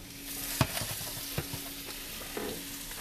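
Steak searing in a hot pan, a steady soft sizzle running throughout with a few sharp clatters from stirring or turning, close and quiet, no voices.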